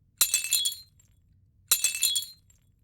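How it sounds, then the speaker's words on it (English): Two sharp glass cracking bursts for a windshield effect, each a bright crackling snap with brief tinkling trailing off, separated by a second and a half of near silence. "I just want a slight cracking. I don't want it to be so, obviously it didn't shatter the windshield and Philip didn't just float out into space."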